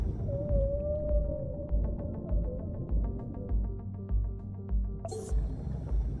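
A frightened baby whale calls in the Dave the Diver video game, a thin wavering cry over low rumbling underwater ambience, with a brighter squeal near the end.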